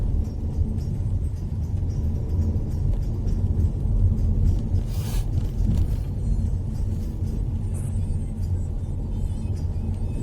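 Interior engine rumble of a car on a long road trip from London, entering China: a steady, loud low drone with road roar throughout, no talk.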